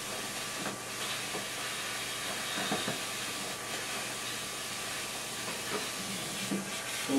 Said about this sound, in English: by me doing this, I can influence where the steam's going a little bit.